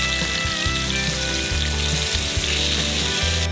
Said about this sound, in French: mettez le poulet dedans. Grillez pendant 3 minutes d'un côté et on retourne.